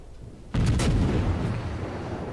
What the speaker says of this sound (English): and then I fire and get detected